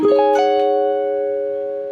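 A single guitar chord, pinky on the 16th fret of the E string, strummed once and left to ring, sustaining cleanly and fading slowly.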